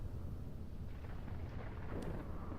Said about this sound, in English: let's just enjoy watching the storm